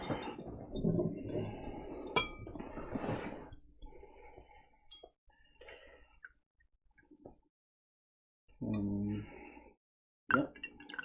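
A beer glass clinks and knocks on a table while beer is poured, with sharp clinks scattered among bubbly pouring sounds and soft movement, close and fairly quiet, with brief gaps of near silence.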